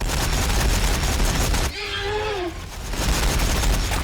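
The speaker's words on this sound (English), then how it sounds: "Warbikers firing, boss!" Ork warbikers firing guns in a Warhammer 40,000 battle against Tyranids, dense rattling fusillade bursts, broken midway by a wavering shrieking cry, then the gunfire resumes loud and continuous.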